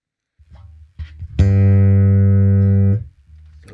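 A single long sustained note held for about one and a half seconds through a chorus pedal, steady and clear, with faint string plucks and fret noise before and after.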